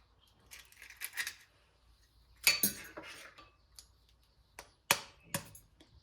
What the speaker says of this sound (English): beating in these 3 eggs in an open bowl